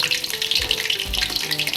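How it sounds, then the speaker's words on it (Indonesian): Egg pempek, a fried fish cake, frying in hot oil, a continuous bright crackling sizzle close by with a few soft low bumps of movement in the pan. "Ini aku goreng yang telur dulu"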